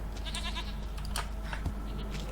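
Goat in The Witcher 3 game world, bleating in a few wavering calls over a steady low ambient hum, fairly close and clear, with no one talking.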